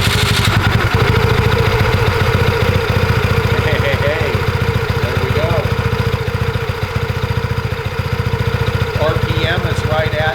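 A BlackHawk paramotor engine on a LowBoy III Quad frame cranks and catches, then settles into a loud, close, steady idle with a rapid even pulse, with people talking over it.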